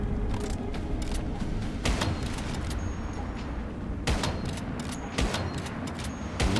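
Scattered gunshots in a shooting video game, several sharp cracks spread irregularly over a constant background of game ambience, with a couple of louder bursts near the end.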